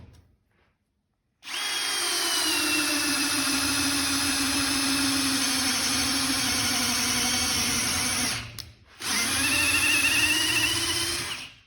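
A Metabo Powermaxx 12V drill/driver on speed 1 bores into wood with a loud, steady, high-pitched motor whine for about seven seconds. It drops out briefly, then revs up again for a second burst, after a moment of quiet at the start.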